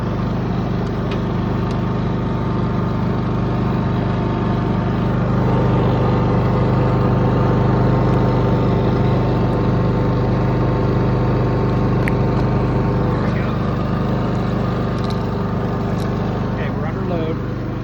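Westinghouse iGen5000DF dual fuel generator running under load, a steady, loud engine drone that holds constant throughout with no change in pitch, while a person talks over it.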